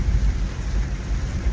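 Heavy rain pouring down in Florida, a dense, steady roar with deep rumbling low-end that runs continuously and loudly without pause, no voices.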